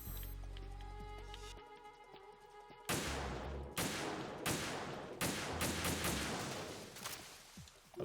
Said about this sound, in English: firing, you know, a pretty large rifle, unsuppressed. at a pretty rapid rate